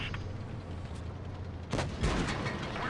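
Tank cannon round striking a track in World of Tanks Blitz while driving a Maus: a sharp, heavy impact crack lands midway, followed by a second booming hit over a low rumbling engine bed.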